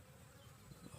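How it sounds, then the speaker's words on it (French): Flies buzz steadily around an opened can of rotten sardines, a continuous close insect drone with no voices. "À peine on ouvre, les mouches sont partout."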